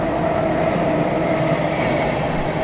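A train pulls away from a small station stop with a loud, steady rumble and hiss of rolling wheels that stays close and continuous throughout, no voices.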